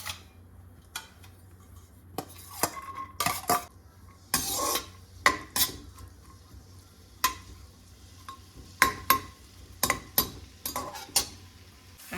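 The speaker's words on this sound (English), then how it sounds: "I've been sauteing these garlic for 5 minutes on a low flame." Garlic sautéing in olive oil over a low flame, a soft steady sizzle under repeated scraping and clinking of a utensil against the pan, in irregular bursts.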